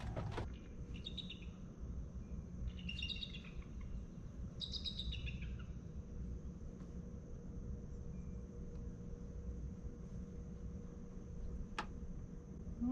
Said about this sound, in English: Oh, it's a bald eagle.